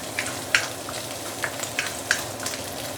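Dried shrimp fry in hot oil with a steady, dense sizzle, broken by scattered sharp pops and crackles of splattering oil, close and continuous throughout with no talk.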